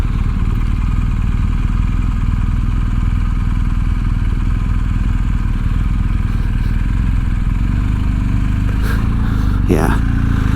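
A BMW R18 motorcycle at a slow crawl with a steady low engine rumble running throughout, close and constant, with a brief clatter near the end.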